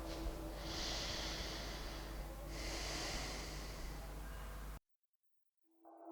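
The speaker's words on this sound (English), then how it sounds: "open your eyes and just come back to normal breathing" Two slow, close breaths through the nose return to a normal rhythm after a yoga breathing exercise for lung fibrosis, each a soft, airy swell, before a brief silence.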